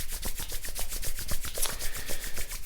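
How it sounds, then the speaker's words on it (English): Palms are rubbed briskly together in a quick, even back-and-forth rhythm for a few seconds, giving a close, dry swishing friction sound with no talk. "Let's take your hands, let's rub them together."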